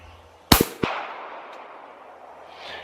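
Pistol fired on a range: two sharp, loud reports in quick succession followed by a third a moment later, each with a short ringing decay into quiet outdoor background.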